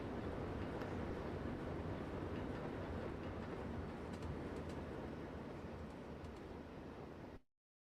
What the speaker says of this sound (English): It's funny when you got the drifting valve open and the cylinder cock's open.